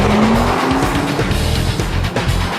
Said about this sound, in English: drive very fast, then hard on the brakes 20 times over 5 laps